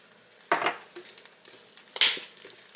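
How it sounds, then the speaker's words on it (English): An egg fries in a small 6-inch iron skillet, with soft sizzling bursts and light crackle coming in two clear swells among quieter spatters, close and fairly faint with no talking. "I like to use this little 6-inch iron skillet because it helps contain that egg while I'm cooking it"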